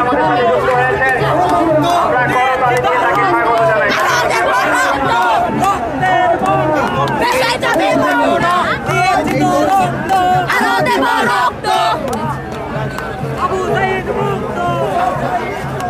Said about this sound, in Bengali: বিভিন্ন নামে কিন্তু তারা স্লোগান দিচ্ছে।